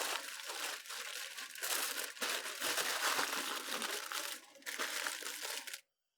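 Pork being wrapped for the grill, with loud, close crinkling and crumpling of wrap that runs in bursts with brief pauses and then stops abruptly.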